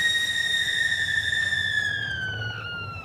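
Opera singer Alicia Botti in Thomas and Friends lets out one long, piercing high scream that holds steady for about three seconds, then slowly falls in pitch as it fades a little.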